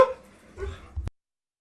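A dog named Oliver gives a short, close bark or yelp followed by a quick second burst, then abrupt silence.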